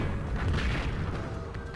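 Cannon fire in the Dreamcast video game Sword of the Berserk: a dense, booming blast with a rumbling low end that sustains loudly through the short moment, with no talking over it.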